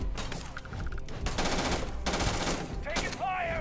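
Rapid gunfire in a Starfield battle, with repeated bursts of automatic shots and overlapping volleys packed densely throughout, plus a few electronic tones near the end.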